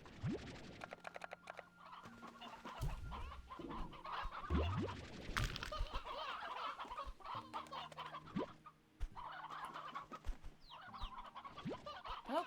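Chickens cluck over and over in the video game Slime Rancher 2, several birds overlapping at close range against a steady game soundscape.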